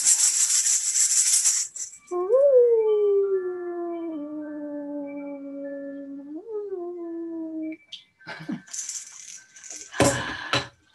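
A person imitates a wolf howl with the voice, a long sliding, wavering cry rising and falling over several seconds, framed by hissy rustling and clattering noises before and after.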